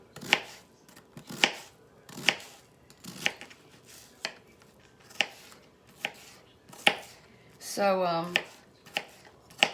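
A sharp knife chops food on a board at a steady pace while chili beans, onion rice and cornbread are prepared. About ten crisp, close chops ring out, and someone speaks briefly near the end.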